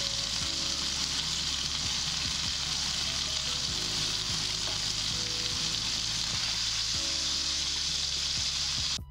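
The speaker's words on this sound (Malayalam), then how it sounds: "ഇനി നമുക്ക് ഈ പാനിലുള്ള ആ ഒരു ബട്ടർ ഒന്ന് ഈ സ്റ്റേക്കിൻ്റെ മുകളിലേക്ക് ഒന്ന് കോരി ഒഴിച്ച് കൊടുക്കാം." A rib eye steak sizzles in a pan while garlic butter is spooned over it, a steady, close crackling hiss broken by soft periodic scrapes and taps of the spoon, with no talk.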